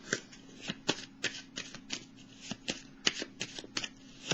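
Tarot cards are handled and laid down one on another in a series of quick, crisp slaps and flicks, close and fairly soft, in an irregular rhythm of about a dozen light snaps.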